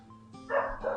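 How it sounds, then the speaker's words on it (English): A single short dog bark, sharp and fairly close, rising abruptly out of a quiet background with a brief second yip at the end; no talk. "He barks after the call."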